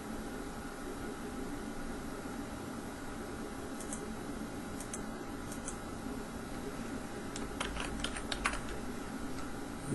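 A computer keyboard typed on in short, sparse bursts of soft clicks over a constant fan-like hiss, a quicker cluster of keystrokes near the end, no voices.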